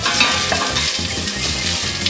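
Butter sizzling and crackling in a hot pot while making clam chowder, a dense, steady frying hiss with constant spitting pops, loud and close throughout.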